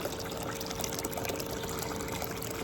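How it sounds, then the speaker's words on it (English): Water poured from a small bottle into a gold pan, a steady close trickling splash that runs unbroken and fairly quiet throughout. "Let me grab my my little water bottle here so I can pour the rest of this out of the pan"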